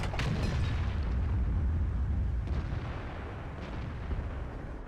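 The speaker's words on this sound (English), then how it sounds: "I managed to just do another damaging shot." Tank cannon fire in the World of Tanks video game from a T34 tier 8 premium tank: a heavy, booming blast with a rumbling low roar that fades slowly, loud and close, with no talking.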